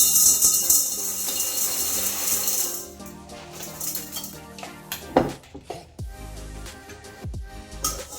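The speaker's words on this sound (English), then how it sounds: "I have some small pebbles like pea stone that I'm going to start by putting in here" Small pea stone pebbles poured into a glass terrarium vessel, a rushing rattle of stones at first, then scattered clicks and clinks as the last pebbles settle.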